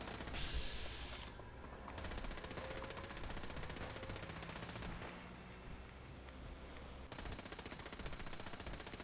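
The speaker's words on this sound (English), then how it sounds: "Sound like you're shooting a lot of stuff" Rapid automatic gunfire from a firefight in the video game Fallout 4, with dense bursts and sustained rattling shots running nearly continuously and loud throughout, with a brief lull partway through.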